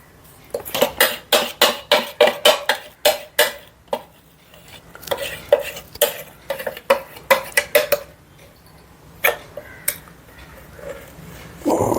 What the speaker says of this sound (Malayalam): ഇനി ഇതിനെല്ലാം ഇളക്കി എടുക്കണം അല്ലേ?